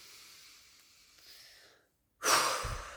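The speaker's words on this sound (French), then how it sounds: "tu respires plusieurs fois comme ça" A breathing exercise with deep breaths: a long, soft exhale fades out, then after a short pause a sharper, louder breath rushes in near the microphone.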